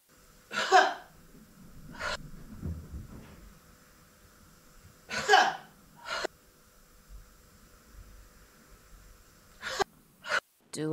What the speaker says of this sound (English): exhaling out as if blowing out a candle, or exhaling forcefully